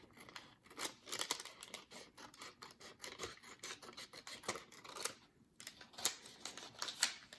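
Scissors snip through paper scraps while trimming a belly band for a junk journal, a steady run of close, crisp cuts and rustles with short pauses, no talking.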